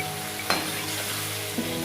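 Chunks of ridge gourd drop into onions frying in a pan, setting off a steady sizzle with a brief sharp clatter as they land, close and fairly quiet, with no talking.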